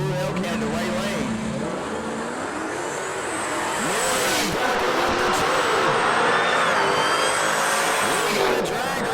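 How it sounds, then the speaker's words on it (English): Blue Dodge Hellcat drag racing at Milan Dragway in a Modern Street Hemi Shootout, with loud engine roar rising and sweeping as the car runs down the strip, and an announcer talking over it throughout. "We got a drag race marching to the top end"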